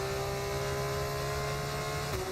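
A Formula race car engine in the game F1 25 holds a steady, high-pitched droning rev, loud and continuous with a brief pitch dip near the end.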